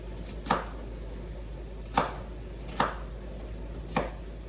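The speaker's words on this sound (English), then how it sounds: "so I'll get the rest of this chopped up" A knife chops ingredients for chili on a cutting board in four sharp, separate strokes spaced about a second apart, close and clear over a quiet background.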